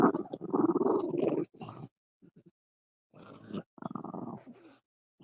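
A dog gives short bursts of low growling and grumbling, fairly close, with brief silent gaps between them.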